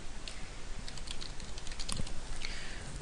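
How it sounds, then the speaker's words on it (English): Continuous soft typing on a computer keyboard while email addresses are entered, a steady patter of quiet key taps over faint background hiss. "you can just manually type in email addresses"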